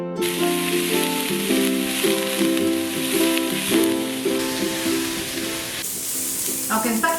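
Onions sautéing in a pan with a little vegetable water for a vegan Alfredo pasta, giving a steady, close, bright sizzle and hiss throughout with light stirring, while music plays underneath.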